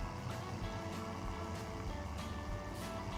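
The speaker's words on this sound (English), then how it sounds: "we are gonna take this tractor and start sowing" Tractor sowing wheat in Farming Simulator 17, a steady low engine drone that runs continuously and evenly throughout, with no clear changes.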